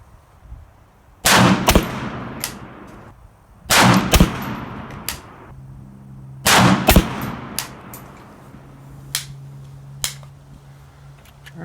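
Three sharp, loud PSA AK-P 7.62x39 pistol shots ring out outdoors, each followed by a rolling echo, with slower gaps between them. A few fainter metallic clicks and thumps come after the last shot.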